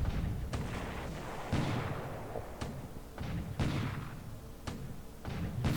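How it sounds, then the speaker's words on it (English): Artillery fire from a base force's 6-inch gun in the War in the Pacific strategy game: a string of sharp, booming shots at irregular intervals, each with a short rumbling tail, loud and unaccompanied. "So they got a base force firing back at us this time, including a 6-inch gun."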